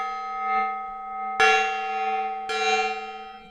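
A sustained ringing tone with two sharp metallic strikes, each blooming into a long shimmering decay, like a gong sound effect played on a stream; loud and clear with no voices.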